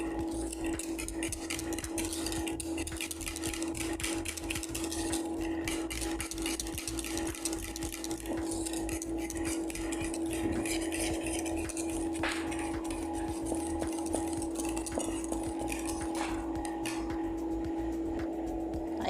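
A spoon stirs a milk pudding mixture with orange blossom water in a metal pot, making steady scraping and light clinking against the pan that continues evenly for a long stretch, close up with a constant background hum and no talking.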